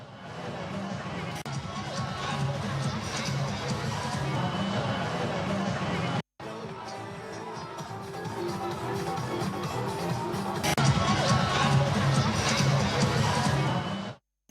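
A large New Year crowd at the Darbhanga Raj grounds makes a steady, dense murmur of chatter and movement, with a short cut partway through and a slight swell near the end.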